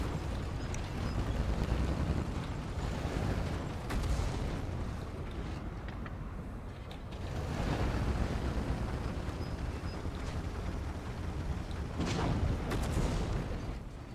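A tank in World of Tanks gets struck by artillery fire, giving heavy, rumbling booms and roaring blasts. The noise stays dense and loud throughout, swelling in bursts around the middle and near the end, with no voices.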